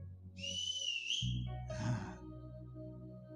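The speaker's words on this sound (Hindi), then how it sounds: "एक सीटी हो जाए," A single shrill whistle blown at a church blessing meeting, a bright piercing note lasting about a second, followed by a burst of loud crowd noise and booming hall reverberation.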